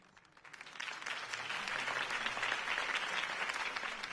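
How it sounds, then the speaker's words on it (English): A crowd applauds a campaign speech in a Batman video game, swelling from quiet to a steady, sustained wash of clapping at moderate distance. "If only Mr. Wayne, my campaign's largest backer, could have heard that applause"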